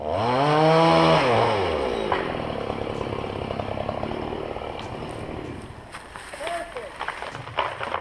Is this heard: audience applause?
no